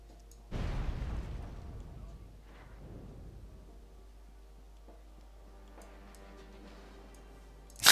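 Heavy artillery fire from a Wargame: Red Dragon battle, a loud booming blast that rumbles and decays over a couple of seconds, followed by a softer second burst and a low distant battle din.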